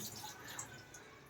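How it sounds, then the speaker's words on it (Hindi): Tap water runs while grapes are washed, a steady hissing splash at low, even level throughout, with no talking. "ये ग्रेप्स धो रहा है"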